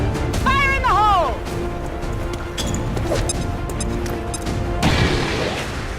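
A grenade detonates in the tactical strategy game XCOM, a loud broadband burst near the end of the clip following earlier game effects and chirpy sounds.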